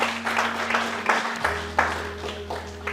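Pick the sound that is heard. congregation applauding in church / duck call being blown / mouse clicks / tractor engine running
congregation applauding in church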